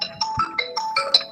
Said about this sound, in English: I think someone's phone is ringing.